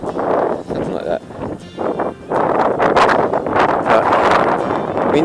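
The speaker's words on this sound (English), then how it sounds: "But wind's picking up." Gusty wind buffets the microphone on a bicycle tour near Kosciuszko National Park, coming in loud, rushing surges with brief lulls between.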